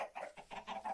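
A chicken in the Minecraft video game clucks in a quick run of four or five close, even-spaced clucks.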